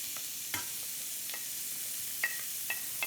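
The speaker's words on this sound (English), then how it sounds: "I want to get my vegetables sautéed" Vegetables sautéing in olive oil in a pan give a soft, steady sizzle with a few sharp utensil clicks and scrapes from stirring, close by and with no voices.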